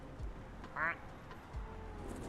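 A duck in the video game Clair Obscur gives a single short, nasal quack at low volume, heard amid quiet game ambience.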